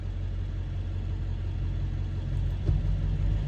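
A vehicle accelerates up the right lane alongside a truck and trailer on a highway in New River, Arizona, heard from inside a cab as a steady low engine rumble and road roar with a brief bump near the end.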